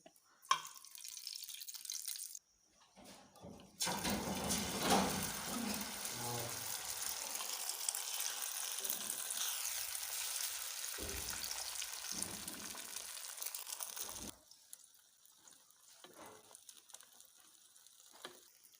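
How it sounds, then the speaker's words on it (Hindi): An egg fries in a pan for a KFC-style burger with a steady, close sizzle and crackle that runs for several seconds. Quieter clatter and rustling come before and after. "अभी हम अंडे को फ्राई करेंगे।"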